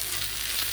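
Pieces of halibut frying in avocado oil on a Blackstone griddle, giving a brief, steady, close hiss of sizzling with no voices.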